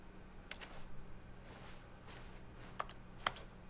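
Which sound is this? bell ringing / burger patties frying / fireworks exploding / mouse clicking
mouse clicking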